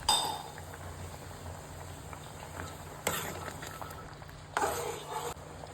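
A spoon stirs Goan-style coconut dal in a metal pot on a gas stove, with a few sharp clinks and scrapes against the pot over a low simmering hiss in a home kitchen.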